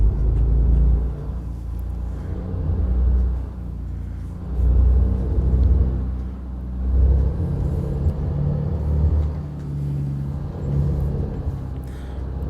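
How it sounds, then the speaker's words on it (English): A heavy truck engine in the American Truck Simulator game rumbles low and close, surging in repeated waves as it accelerates through the gears, with no voices. "Throw it in the gear before hitting gas"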